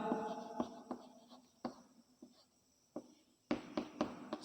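Handwriting in a quiet room: a pen or chalk strikes and scratches in short, irregular strokes, with brief pauses between words.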